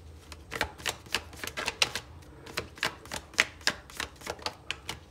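Tarot cards being shuffled and flipped, a rapid run of sharp papery taps and slaps close up, irregular but fairly even in pace, with no talk over them.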